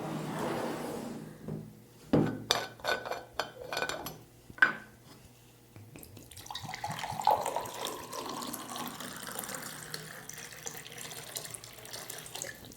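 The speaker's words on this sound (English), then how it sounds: "Let me serve some water to you and to me." Water pours from a bottle into cups, with clinks of cups and small knocks before a longer steady splashing pour, close by and moderately loud.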